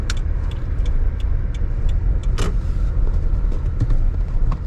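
A car drives along a crowded street in Bar Harbor, Maine, its steady low road and engine rumble heard from inside, with light clicks and rattles over the continuous drone.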